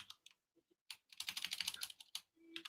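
Quick bursts of typing on a computer keyboard, close and soft, with rapid clustered keystrokes broken by short pauses.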